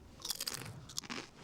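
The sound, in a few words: crunching deep-fried crisps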